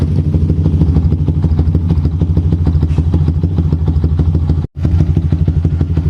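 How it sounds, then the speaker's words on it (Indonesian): A Yamaha Jupiter MX King motorcycle idling after a water pump replacement, a close, loud, steady engine putter with a rapid regular beat and a brief cut in the sound near the end. "masa kita mau pelototin aja motor nyala gitu"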